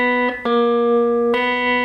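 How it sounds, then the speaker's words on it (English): A guitar note is picked on the third string at the fourth fret, then picked again twice in quick succession, each note ringing clear and sustained with bright harmonics. "move on to the third string at fret 4, and we're going to now double check, we're going to check that against the second string open"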